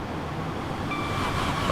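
A Lumo train passing on the East Coast Main Line in Train Simulator, a steady rumbling rail roar with a faint rising whine, no voices.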